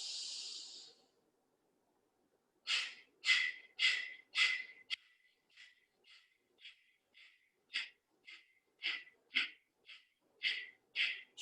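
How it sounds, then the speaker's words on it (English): Heavy breathing for a fast breathing exercise: one long exhale, a pause, then a string of quick, sharp, evenly spaced in-and-out breaths, close and loud, with no talk. "Breathe in for round 2."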